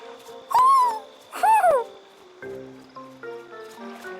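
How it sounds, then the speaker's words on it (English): An owl in the video game Tales of Arise gives two loud, clear hoots close by, each a rising-and-falling call. Soft game music or ambience continues after them. "is that owl beckoning us over?"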